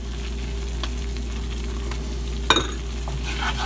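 Flour being stirred into a simmering pork and vegetable stew in a velouté sauce, a steady soft scraping and bubbling sizzle throughout with one brief sharper clink of a spoon against the pot near the middle.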